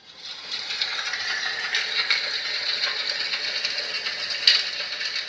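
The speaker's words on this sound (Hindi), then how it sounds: "ये यज्ञ की आवाज शुरू हो जाती है।" Yagna fire ritual sound from a talking Bhagavad Gita device, a steady crackling, rattling texture like burning sticks, continuous and even for several seconds with one sharper snap near the end, no voices.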